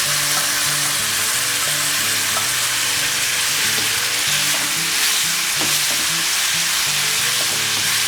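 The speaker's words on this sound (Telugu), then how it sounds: "ఇప్పుడు ఇందులో మనం ముందుగా మ్యాష్ చేసి పెట్టుకున్న సొరకాయ ముక్కలన్నీ కూడా ఇందులో వేసి ఒకసారి తిప్పుకుందాం." Mashed bottle gourd pieces sizzle loudly in a pan with onions, a continuous hiss broken by scraping spatula strokes and occasional clinks as the mixture is stirred.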